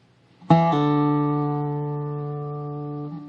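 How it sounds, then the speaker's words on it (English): A single dobro note picked on the fourth string at the second fret with a pull-off: a sharp metallic attack, a quick drop to a lower pitch, then a long ringing sustain that slowly fades. "we're going to pick the 4th string at the 2nd fret with a pull off"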